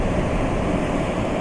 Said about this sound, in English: The surf is just reaching the shore